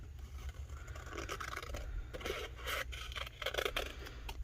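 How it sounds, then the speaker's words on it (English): Scissors snip through tattoo sheets close up, making steady crisp, scratchy cuts in a continuous rhythm over a low background hum, with no talking. "So I'm going to cut them into all individual pieces"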